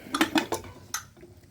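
Metal plates clatter and clink as they are picked up and stacked for a home meal, a quick run of four sharp ringing knocks close by with no voices.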